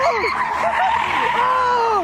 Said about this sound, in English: a Mustang rushes straight at the tiny group